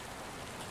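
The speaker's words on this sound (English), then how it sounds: "the rain begins to drop vertically once again" Rain falls straight down in still air, a dense, steady close-up patter that stays even and continuous throughout with nothing else over it.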